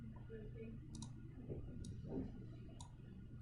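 A computer mouse gives a few faint, crisp clicks, spaced about a second apart, over a low steady background hum.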